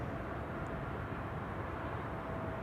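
An airplane making a breakaway landing at Amsterdam Schiphol Airport gives a faint, distant, steady engine roar with no clear peaks.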